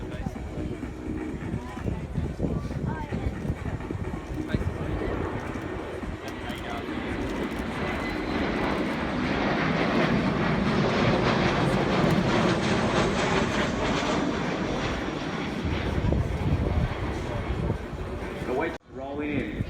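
A Boeing E-7 Wedgetail rolls down the runway at the 2017 Avalon International Airshow, its engines giving a steady broadband roar that swells toward the middle and holds, with voices faintly present in the crowd.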